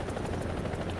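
A helicopter rotor in War Thunder, a rapid rhythmic thumping chop over a low engine drone, steady and fairly close, heard alone.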